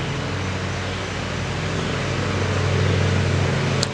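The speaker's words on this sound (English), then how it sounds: "he's literally got landscapers with blowers, with mowers going on next to him" Landscapers' leaf blowers and lawn mowers running outdoors nearby, a steady droning engine roar with a whooshing airy hiss, continuous and fairly loud for the whole stretch.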